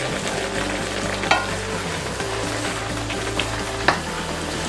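Beef chuck roast bubbles and sizzles in its sauce in a restaurant kitchen, a dense, steady frying hiss broken by a few small pops and stirring clicks, loud and close with no voices.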